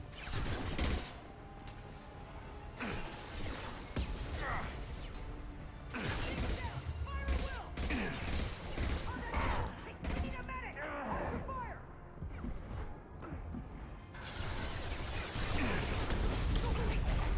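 Rapid gunfire in the sci-fi shooter Mass Effect 2 (Legendary Edition) during a conveyor line fight, with dense bursts of shots and impacts that ebb and surge alongside mechanical clanks and game effects.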